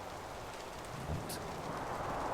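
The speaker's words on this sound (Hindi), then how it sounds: "आयशा, उसकी आवाज बारिश में खो गई" Steady rain falls throughout a Hindi audio drama, a soft continuous hiss with a faint low rumble partway through and no voices.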